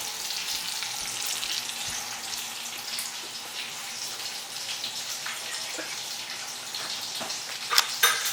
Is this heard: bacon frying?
yes